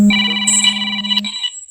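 A mobile phone rings with a bright electronic ringtone, a loud chiming melody playing close by for under two seconds with no talking over it.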